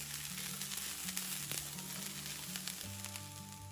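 Amaranth leaves tossed with peanut powder fry in a pan, giving a steady close crackling sizzle that runs unbroken with no one talking.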